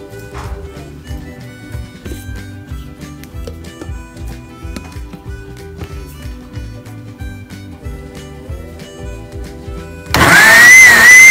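Music plays for most of the time, then a blender suddenly whirs on loudly near the end blending ube, drowning everything out.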